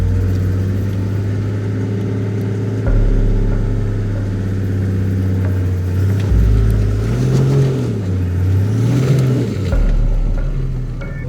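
A vehicle stuck in soft sand on Sowa Pan revs loud and close, the engine pitch rising and falling in surges as the wheels spin without grip, over about eleven seconds with no talk.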